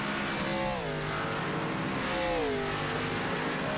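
A Gen4 stock car in iRacing revs hard after a slide, two rising and falling engine howls a second apart over a steady racing drone, loud and close.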